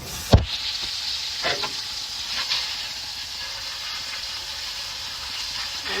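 Butter sizzles and crackles in a hot pan with potato hash and steak, opening with a sharp clatter followed by a steady, fairly quiet frying hiss.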